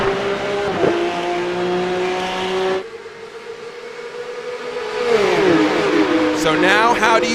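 Porsche racing cars in the Porsche Esports Supercup video game at Watkins Glen whine through gear changes and accelerate past, engine tones rising and falling, with commentary voices talking over the game sound.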